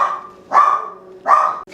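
A dog barks three times in a loud, close, evenly spaced series, with a fourth bark cut off at the end and no voices.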